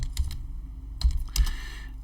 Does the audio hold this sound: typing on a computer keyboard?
yes